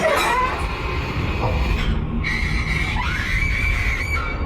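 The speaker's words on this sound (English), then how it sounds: "His girlfriend shrieks and flees the scene." A woman shrieks in fright at a sudden apparition, a high piercing scream that rises over a dense, noisy background rumble, loud and close.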